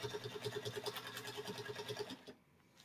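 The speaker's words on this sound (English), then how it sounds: "now I'm just sewing straight down that line" A sewing machine stitches a straight seam on a sparkle star quilt block, running in a fast, even mechanical rhythm close by, then stopping abruptly into near silence near the end.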